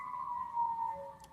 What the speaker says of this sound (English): it sounds like the ambulance is coming